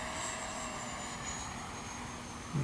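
A 64mm Freewing F-14 Tomcat RC jet at full power, an even, sustained ducted-fan whine with a slowly falling tone as it passes at a distance, continuous and unbroken.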